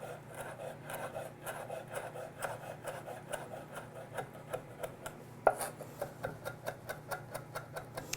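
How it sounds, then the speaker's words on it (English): A kitchen knife rapidly minces destemmed fresh rosemary on a wooden board, producing a steady run of close, crisp chops and rasping strokes with no talk. "I've already removed the woodier stem off that rosemary, and I'm going to make sure that I mince this kind of pretty fine"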